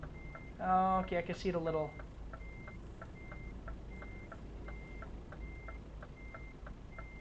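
Steady reversing beeps from a truck backing up in Euro Truck Simulator, evenly spaced and moderately loud over a low engine rumble, with a voice talking briefly at the start.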